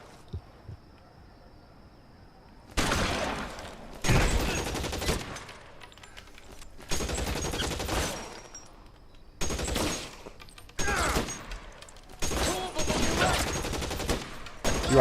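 Heavy gunfire from an L.A. Noire shootout comes in repeated loud bursts of rapid shots, separated by short quieter gaps, several volleys in a row.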